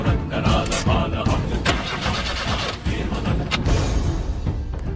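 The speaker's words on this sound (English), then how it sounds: "the person begins to start the car, it doesn't start at all or it refuses to start" A car engine in a Bollywood movie scene cranks repeatedly without catching, a loud, sputtering, rhythmic churn of the starter over about five seconds, with some background voices mixed in.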